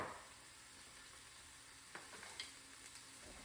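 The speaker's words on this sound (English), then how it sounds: "we're giving that a nice little stir as these are sauteing" Parsley sautéing in a pan as it is stirred, a soft steady sizzle with a few light scraping clicks from the spoon, quiet and close.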